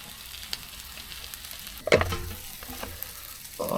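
Tuna frying in a pan on a camping stove in a van, a steady sizzle with small pops and a louder burst of spitting midway as the food is moved.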